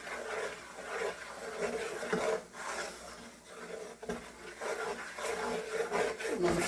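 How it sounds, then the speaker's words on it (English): A utensil scraping the bottom of a pan of gravy with flour stirred in, giving a steady rough rasping that continues almost without pause at close range, moderately loud, with no speech. "And I'm scraping that bottom, get all them bits up."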